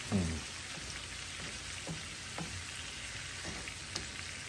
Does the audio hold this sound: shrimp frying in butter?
yes